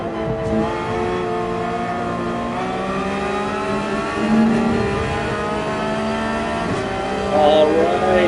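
Porsche 911 GT3 racing round Mount Panorama in Gran Turismo 7, its engine holding a steady high whine with shifting harmonics as it climbs and falls through the gears, loud and continuous.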